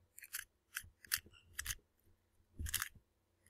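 A new Square-1 puzzle cube being turned, with a series of sharp, dry plastic clicks and scrapes in quick bursts separated by short pauses, close and fairly quiet.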